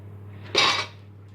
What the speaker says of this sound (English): Got our pots in there, ready to go.